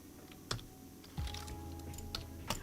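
Sparse, quiet keystrokes on a computer keyboard, a few sharp clicks spaced out over a faint background hum, with no talking.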